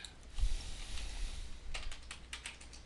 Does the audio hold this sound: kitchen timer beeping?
no